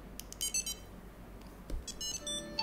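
A phone rings with a ringtone set off by a Tile tracker: a sequence of bright, melodic electronic tones in short bursts with pauses between them, moderately close, with no talking.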